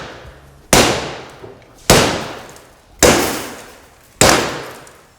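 Security glass made for schools, already weakened, takes four hard, evenly spaced blows, each a loud sharp crack that rings and fades before the next strike.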